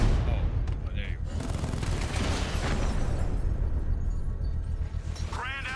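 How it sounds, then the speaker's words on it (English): In the video game Batman Arkham Knight, a controlled bomb explosion sets off loud layered booms and crackling bursts. These rumble through the whole stretch, with brief voice-like game sounds near the end. "I can use the power winch to trigger a controlled explosion"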